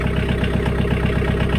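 A 2010 Kioti tractor engine idles steadily after starting, a continuous low, even rumble with light mechanical clatter, close and constant throughout with no talk.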